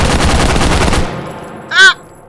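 Automatic gunfire from the Angry Gun in a VR shooting game: a rapid, loud burst of shots for about a second, followed by a short sharp exclamation from a voice.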